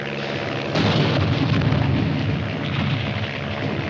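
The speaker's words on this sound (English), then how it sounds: "Piper Cup's calling the shots for artillery." Artillery shells exploding in a battlefield scene from a 1951 war film, a sudden loud blast followed by a sustained rumbling roar that lingers and slowly fades, with no voices.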